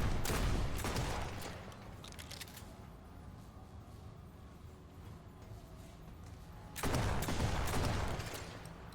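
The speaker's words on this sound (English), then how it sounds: "My two-barreled shotgun shooting its 3 rounds." A double-barrel shotgun fires in Remnant II in two loud blasts, one at the start and another about seven seconds later, with a quieter lull between.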